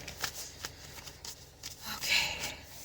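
Oracle cards are shuffled by hand in quick, crisp riffling bursts, close and fairly quiet, with a longer run of shuffling near the end.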